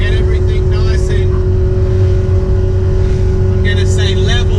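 A flex-fuel car running E85 is driven on the road to warm the engine, giving a loud, steady engine drone from inside the cabin while a voice talks over it in short bursts.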